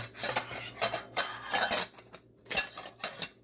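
A metal camping tea kettle from a hiking and camping go bag is handled, giving repeated clinks, scrapes and rattles of metal parts in bursts with short pauses, close and fairly loud.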